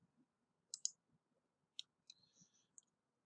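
Computer mouse clicks on a stock screener while filters are selected: a quiet, isolated double click, then several more single sharp clicks spaced across a few seconds, close and faint, with no talk.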